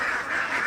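Ducks on a duck farm quack in a loud, close, continuous chorus of overlapping nasal calls.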